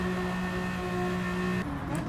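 A Renault Avantime engine in Gran Turismo 7 drones steadily under acceleration, a sustained tonal hum holding pitch and then shifting abruptly near the end, loud and up front with no talk.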